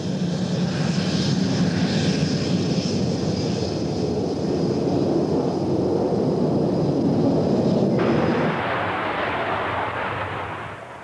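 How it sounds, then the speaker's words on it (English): A McDonnell Douglas Phantom jet on a low-speed handling test at Boscombe Down gives a loud, steady engine roar for about eight seconds, then the tone shifts to a broader hiss before fading slightly. "Les is sampling the Phantom's handling at low speed."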